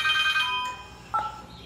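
An incoming call rings on a telephone with a bright electronic ringtone: one short melodic burst, then a brief higher chirp, close and clear.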